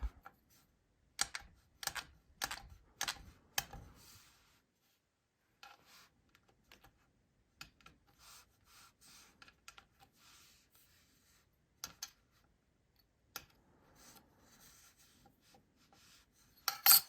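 A blade taps and chops through light green polymer clay on a hard surface, a quick run of sharp close clicks followed by sparser, softer cuts and scraping.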